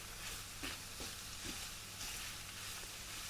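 Chunky onions frying with spices in a pan, a quiet continuous sizzle with a few soft stirring knocks.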